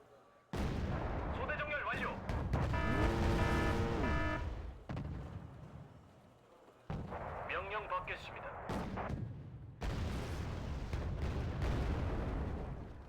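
Tank cannon fire in a video game: several heavy booming shots with long rumbling, ringing tails, loud and close, spaced a few seconds apart, with someone talking under them.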